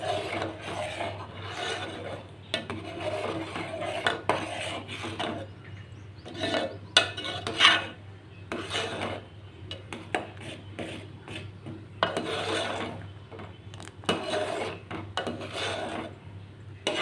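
A spoon scrapes and stirs coconut junnu mixture around a pan in steady, repeated rasping strokes with occasional clinks against the metal, close and fairly loud over a low steady hum.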